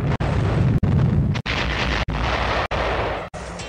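A massive atom bomb explosion roars as a continuous, dense blast of rumbling noise, broken by several brief silent cuts.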